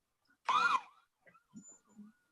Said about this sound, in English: Was that another alarm there?